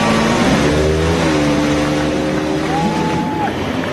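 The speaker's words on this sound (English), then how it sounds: "Drivers, start your engines." A field of IndyCar race car engines firing up and revving on the Toronto street circuit, a dense loud roar with overlapping droning tones and one rev climbing sharply near the end, faint crowd noise beneath.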